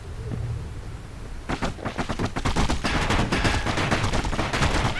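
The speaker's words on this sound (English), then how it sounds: "Good thing pincushions can't see where they're shooting." Enemy pincushions in the game Bastion shoot rapid, crackling volleys that start after a quiet moment and keep up as a dense, loud barrage, with no talking.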